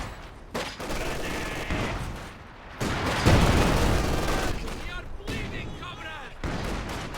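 An MG42 machine gun fires in a World War II strategy video game match. Sustained, dense bursts of gunfire rattle for several seconds, with booming impacts mixed in and a steady battle din.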